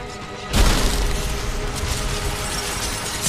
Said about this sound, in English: Okay, it's about to break the glass.